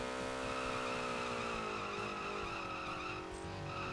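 A small toy car drifts in the Table Top Racing video game, with a sustained engine whine and tire squeal that hold a steady pitch, loud and continuous throughout.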